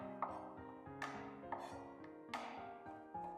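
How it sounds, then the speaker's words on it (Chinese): Garlic cloves are smashed and chopped with a kitchen knife on a board, a handful of sharp separate knocks spaced unevenly, heard close and alone in a quiet room. "只需要一把蒜子，用刀给它拍扁"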